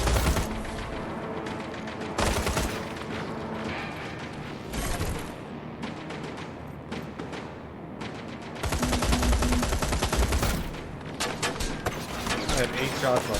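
Dense, loud gunfire from a weapon in the video game Terminator Resistance, with rapid bursts and sustained volleys that fill the whole stretch alongside mechanical clatter and game effects.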